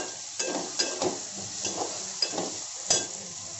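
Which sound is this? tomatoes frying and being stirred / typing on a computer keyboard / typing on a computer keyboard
tomatoes frying and being stirred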